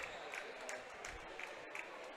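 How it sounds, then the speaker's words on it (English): The Arkadelphia crowd at a girls' state tournament quarterfinal basketball game applauds a senior who has fouled out, a faint, steady patter of clapping from a gym crowd with broadcast commentary over it. "She gets a hand from the Arkadelphia crowd."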